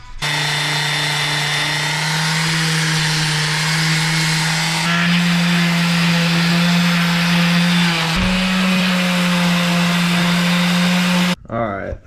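A power sander grinds steadily on rusted outboard motor parts, a loud continuous whine with slight pitch shifts as pressure changes, cutting off abruptly near the end.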